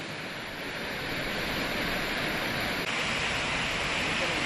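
The overflowing Walanae river rushes in a steady, dense roar of floodwater, loud and unbroken throughout, with no pause in the torrent.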